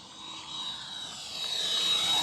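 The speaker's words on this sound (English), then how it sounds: "Pushing the limits of the Viper jet" An E-flite Viper V3 70mm electric ducted-fan RC jet flies past with a steady high-pitched whine and rushing roar that swells louder toward the end, alone without talking.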